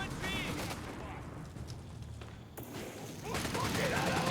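Battle gunfire in Company of Heroes 3 between German and British forces, with dense rattling volleys, machine-gun bursts and heavy thumps, loud and continuous, while a caster talks over it.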